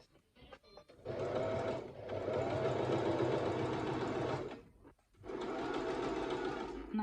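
Sewing machine stitching a buttonhole with the dial set for backward stitches, running steadily in two long bursts separated by a brief pause, close and fairly loud.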